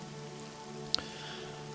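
Rain falling on dense leafy vegetation near a camp, a soft steady patter with a faint drip, plus one sharp close drop tick standing out briefly.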